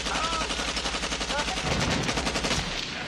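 Rapid machine-gun gunfire in a jungle hillside battle scene from a war film, dense overlapping bursts sounding continuously and loudly throughout, with faint voices mixed underneath.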